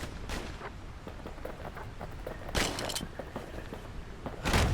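Two slinger pistols fire in the video game Bastion, with a scatter of sharp shots and a few heavier booming blasts over a rumbling background.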